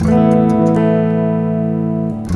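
A clean electric guitar chord, with a Warm jet phaser pedal switched off, rings out and sustains steadily, with a few light pick or fret noises near the start and end.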